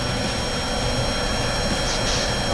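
Planes taking off, a loud, steady, unbroken jet roar filling the whole stretch with no pauses.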